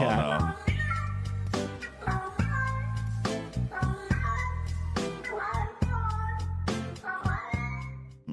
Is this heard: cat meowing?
yes